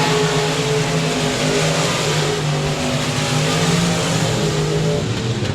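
Race cars roar around the 67 Speedway of Texarkana oval in a continuous, loud, close engine drone that holds steady throughout.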